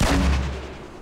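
A grenade blast in Fortnite Season 4 gameplay bursts as one loud, close boom with a deep low rumble that quickly fades over about a second.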